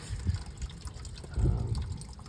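Gasoline draining from the fuel tank of a 1995 Dodge Grand Caravan, a steady trickling pour with a brief heavier gush partway through, close by and alone.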